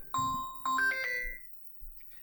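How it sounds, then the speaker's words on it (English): A phone rings with two bright electronic chime tones in quick succession, clear and close in a quiet room, followed by a brief soft handling noise, with no talking. "Of course my phone would ring."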